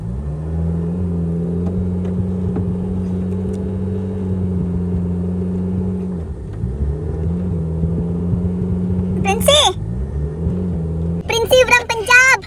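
A car stuck in a desert sand pit near a farm in Dubai revs its engine hard, a loud sustained drone that dips and climbs again, with people's voices breaking in toward the end.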